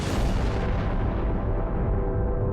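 A huge cosmic explosion representing the primeval atom rolls out as a loud, dense, continuous roar, its bright upper edge fading over about two and a half seconds.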